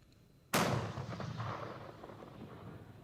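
A basic old rocket launcher fires once near Bakhmut, a sudden loud close blast followed by a long rumbling decay across the open field, with no voices.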